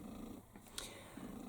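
A pet cat purrs softly during cuddles, a low rumbling purr in slow pulses, quiet and close, broken briefly by a small rustle or sniff.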